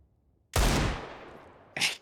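A single loud, close gunshot in CS:GO with a decaying tail, followed by a shorter sharp burst about a second later.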